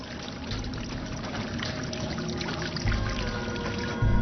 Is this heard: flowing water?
yes